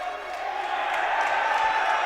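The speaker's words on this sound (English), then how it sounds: "The crowd's really enjoying that." Crowd at a college men's basketball game, Berea at Eureka, giving a brief swell of cheering that rises a little over two seconds.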